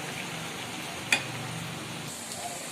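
Cauliflower 65 deep-fries in oil over a medium flame, giving a steady, soft sizzle throughout with one brief sharp tap partway through and no talking.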